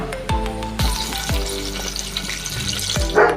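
Garam masala and bay leaves hit hot oil in a kadai, sizzling and crackling continuously at close range, with spatula knocks and stirring scrapes against the pan.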